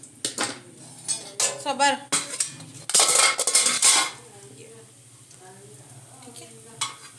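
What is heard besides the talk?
boiled eggs frying in oil in a pan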